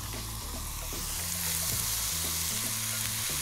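Chopped onion and garlic sizzle and fry steadily in a pan, with a dense, continuous crackle close by.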